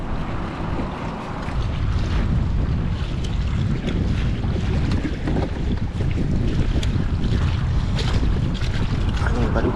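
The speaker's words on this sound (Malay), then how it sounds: "Angin padu-padu." Strong wind roars continuously around a boat on open water, buffeting the microphone with a loud, broad rush that swells and eases over the waves, close and unbroken.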